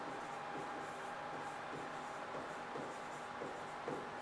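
Pen or marker scratching out a formula on a board or page in a physics class, steady continuous strokes with faint rhythmic taps, fairly close and alone without talk.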